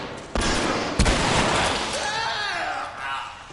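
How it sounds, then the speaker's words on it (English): Shotgun blasts in The Last of Us, with a sharp boom near the start and another about a second in, set against loud game effects and music that carry on throughout. "thank goodness for shotguns"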